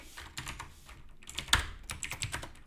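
Rapid clatter of keys on a computer keyboard while lines of C++ code are commented out, a close, steady burst of uneven taps with one sharper keystroke midway and no voices.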